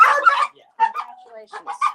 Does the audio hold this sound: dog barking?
yes